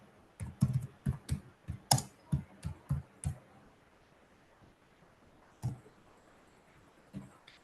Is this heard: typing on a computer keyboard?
yes